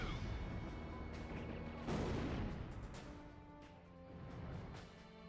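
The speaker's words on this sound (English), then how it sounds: "Missile launched" A missile launches in the combat flight video game Ace Combat Zero with a sharp burst and rushing roar, swelling then fading over ongoing jet engine drone.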